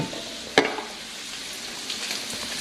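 Thick-cut bacon fries in a pan with a steady close sizzle, a single sharp pop early on, and no voices.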